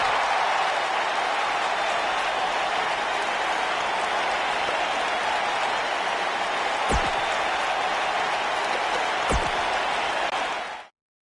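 The live crowd in the WWE 2K19 video game applauds in a dense, steady roar of clapping and cheering that holds level throughout, with two sharp thuds partway through, then cuts off abruptly.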